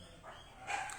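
Dogs bark indoors somewhere in the house in a brief, moderately faint burst that is over within a second, with no speech on top.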